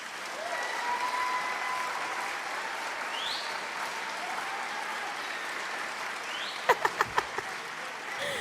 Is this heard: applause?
yes